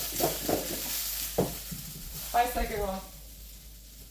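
Potatoes fry in a pan with a steady sizzle and occasional stirring scrapes, kept mostly under nearby casual talk.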